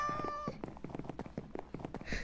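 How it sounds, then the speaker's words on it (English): A cat meows repeatedly inside a PS4 game, its strained, harmonic cries rising and falling over a busy, clattering backdrop of quick footstep-like thuds. "that's a possessed cat."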